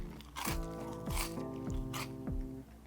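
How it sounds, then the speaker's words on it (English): Magic Spoon cereal is crunched in three or four loud, close bites spaced about half a second apart, over soft background music. "What an audible crunch."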